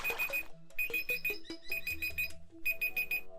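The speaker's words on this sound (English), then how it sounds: "That would be my timer that says when I have 30 minutes in an episode." A recording timer alarm marking 30 minutes beeps in rapid repeated bursts with short pauses, a bright electronic chirping close by, alone with no talk.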